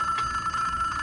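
A telephone rings inside the horror game Mr. Hopp's Playhouse 2, a steady electronic bell tone pulsing quietly in a short burst.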